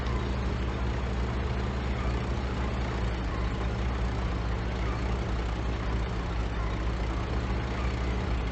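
A tank's heavy engine drones steadily as it moves forward in a Battlefield game, a constant low rumble with no letup and no other sounds rising above it.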